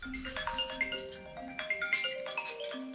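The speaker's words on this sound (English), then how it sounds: "my phone's gonna ring while I'm trying to do this" A mobile phone rings during a workshop build session of a Pro-Line Jeep Comanche RC body, its repeating melodic ringtone notes sounding clearly and fairly close, alone without talk.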